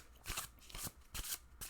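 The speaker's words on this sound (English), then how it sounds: "I overhand shuffle." Linen-finish tarot cards being overhand shuffled, four quick bursts of soft, papery slides in a steady rhythm, close and quiet.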